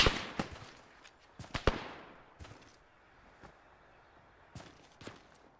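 Scattered gunshots of suppressive fire in the video game Antistasi crack in irregular clusters, a few close together then sparse single reports, all fairly faint and distant over a quiet background.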